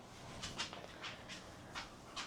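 A dog whimpers softly close by in a quiet room, several short high-pitched whines spaced unevenly over a couple of seconds, with no talking.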